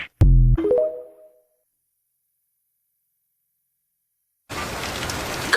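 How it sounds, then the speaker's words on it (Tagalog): Heavy rain pours down steadily and loudly as a dense broadband wash, starting abruptly after a brief burst of sound and a stretch of silence. "Lakas ng ulan"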